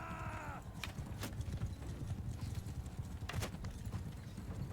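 Horse hooves clip-clop in Mount & Blade II: Bannerlord, a steady muffled trotting rhythm under a low rumbling game ambience, with a few sharp clacks and mechanical creaks over it.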